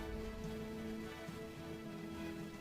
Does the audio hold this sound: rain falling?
yes